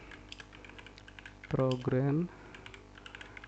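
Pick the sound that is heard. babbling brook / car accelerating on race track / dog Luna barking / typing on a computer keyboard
typing on a computer keyboard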